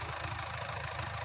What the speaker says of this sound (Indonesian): Nah sekarang mobil sudah saya hidupkan ya teman-teman.